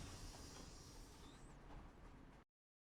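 A train pulls into a station in the video game City of Heroes, a steady rumbling rail drone with a faint rising whine, heard alone until it cuts off abruptly near the end.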